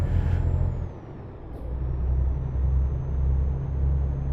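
Truck in Euro Truck Simulator 2 driving with a low, steady engine rumble, broken early by a sharp air-brake hiss, then a faint high whine over continued motor drone.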